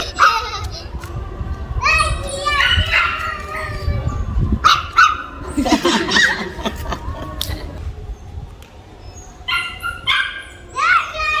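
A dog barks and yelps amid children playing and chattering nearby, the barks mixed with excited kids' voices throughout.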